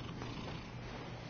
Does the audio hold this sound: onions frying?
no